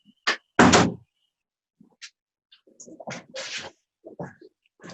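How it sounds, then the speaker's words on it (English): An office door swings shut with a couple of firm thuds and a scrape early on, followed by faint knocks and rustling movement in a quiet home workspace. "I've got to close the door in my office here"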